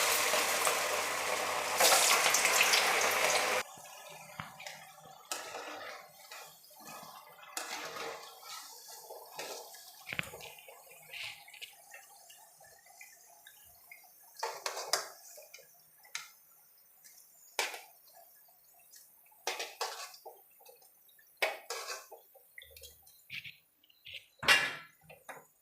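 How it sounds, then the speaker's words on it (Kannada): Potato vadas are dropped one by one into hot oil: a burst of loud sizzling, then quieter, scattered crackles and pops as they fry. "ಈಗ ನಾನು ಮಾಡಿರೋ ವಡೆನೆಲ್ಲ ಎಣ್ಣೆಗೆ ಒಂದೊಂದಾಗಿ ಈ ಥರ ಬಿಡ್ತೀನಿ"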